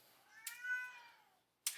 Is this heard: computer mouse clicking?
no